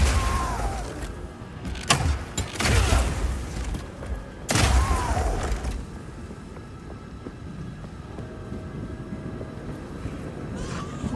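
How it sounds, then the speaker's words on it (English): Grenades blow up in Path of Exile 2 as a mercenary's crossbow sets them off, two heavy booming blasts in quick succession followed by a rumbling aftermath and ongoing game noise. "you can explode any grenades that happen to be on the ground"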